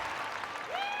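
Steady, loud applause from a netball crowd fills the moment, a continuous wash of clapping with no pauses.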